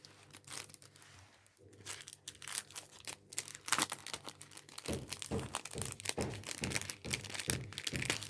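Sticker packaging being handled, with close crinkling and rustling of plastic and paper in irregular bursts, growing busier and louder in the second half.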